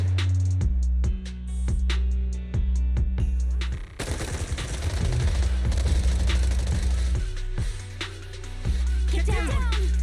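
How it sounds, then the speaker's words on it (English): Suppressive marching gunfire in the Zenless Zone Zero video game: loud repeated automatic bursts over a low droning score, a dense chaotic volley in the middle, then rhythmic shots resuming. "Gunfire? This pattern. Suppressive marching fire."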